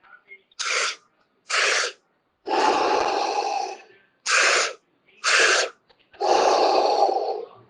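Deep breathwork breathing, loud and close: sharp quick inhales alternate with long, rushing exhales in a steady, repeating rhythm.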